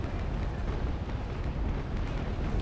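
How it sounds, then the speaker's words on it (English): Ship cannons fire a broadside in the Naval Action video game, a dense rumbling roar of overlapping booms that rolls on continuously at heavy, loud volume. "shoot my starboard side broadside"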